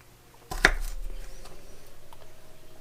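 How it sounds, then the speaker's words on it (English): A knife slices through fresh ginger root on a cutting board, one sharp close cut followed by a fading resonant ring, alone. "I'm just going to slice it"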